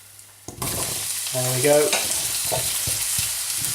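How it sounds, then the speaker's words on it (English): Courgettes dropped into a pan of hot olive oil, breaking into a loud, steady sizzle with a few stirring clatters, and someone speaks briefly over the frying. "I'll drop a good handful of the courgettes in"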